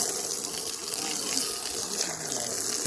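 Water gushing steadily into a chicken waterer, a continuous close splashing rush with no breaks and no talking over it.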